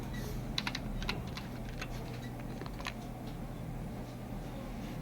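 Text is typed on a computer keyboard while designing in Photoshop: a quick run of light, close keystroke taps in the first few seconds over a steady low hum, then quiet, with no talking.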